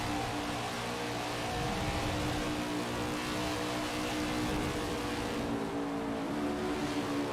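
Stock car engines race around an oval in the video game NASCAR 21: Ignition, a continuous, loud, buzzing engine drone that holds steady from start to finish without breaks, close and full.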